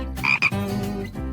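Frog croaks in a few short, raspy bursts close to the mic, the loudest near the start, over a steady background hum; nobody speaks.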